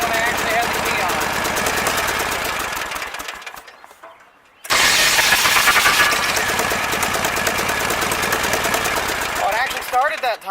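A Briggs & Stratton small engine fitted with an aftermarket metal starter gear cranks, drops out briefly, then catches and runs loudly and steadily, with people talking over it.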